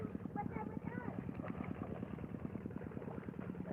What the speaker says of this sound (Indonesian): nah ada traktor ya, kita mau lihat sambil mendekat ya